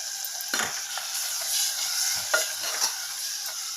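Potato curry with gram flour water is stirred in a pan, with a bubbling sizzle under repeated scraping strokes of a spoon, close up.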